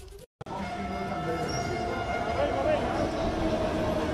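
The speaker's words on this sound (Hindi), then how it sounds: "डीएमआरसी ने आज पब्लिक लाइन कॉरिडोर पर भी ड्राइवरलेस मेट्रो का परिचालन शुरू कर दिया है।" A driverless Delhi Metro train runs on a public line corridor with a steady, loud rolling rumble and faint squealing tones, under a voice talking over it after a brief cut near the start.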